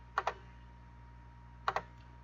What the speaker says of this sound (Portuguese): utilizando então a calculadora científica, podemos digitar 1 menos o binomial 15